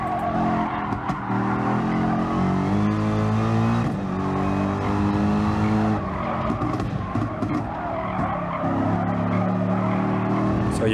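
Gr.3 race car in GT Sport at Fuji Speedway, its engine droning loudly and continuously with shifting pitch as tyres squeal and skid through a moment of oversteer.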